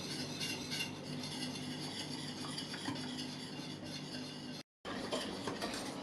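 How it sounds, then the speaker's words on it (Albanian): Lemon cream thickened with starch being stirred in a pot: continuous scraping and rubbing of a spoon against the pot, steady and close, with a brief gap near the end. "Andaj e trazojmë vazhdimisht sa të arrijë atë trashësinë që ne duam."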